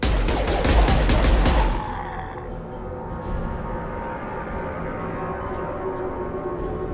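Rapid bursts of gunfire from a Mass Effect 2 cutscene, loud evenly spaced shots for under two seconds that stop abruptly, then a low rumbling game ambience continues with no talking.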